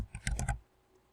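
A short cluster of four or five quick computer clicks, close and crisp, then quiet.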